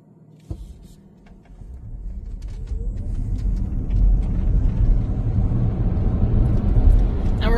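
Road rumble and tire noise swell steadily as a car accelerates quickly from a stop, growing from a quiet cabin to a loud low roar after an early thump.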